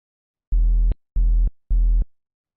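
A sine wave hard-clipped by digital clipping in Ableton plays as three loud, buzzy tone bursts, each roughly half a second long, separated by short silences.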